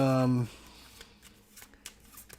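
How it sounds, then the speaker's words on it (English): Board game cards riffle in a quick burst at the start, followed by soft, scattered taps and shuffling handling sounds at close range. "You take card 1, and then you shuffle up the rest of these."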